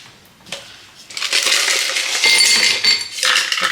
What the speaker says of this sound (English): Put the ice in the glass.